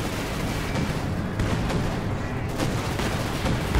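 A Puma armored car fires its cannon in Company of Heroes 2 amid a steady rattle of game gunfire and artillery, the sharp reports sounding moderately loud against the dense battle noise.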